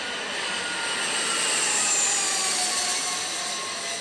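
A private jet in flight, heard as a steady, loud broadband jet roar that holds constant throughout, with no voices.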